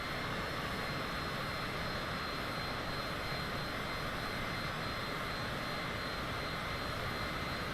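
Engines of a Citation private jet in Microsoft Flight Simulator 2020 powering up, a steady, loud, broadband roar with a high whine on top, continuous and unchanging throughout, with no talking.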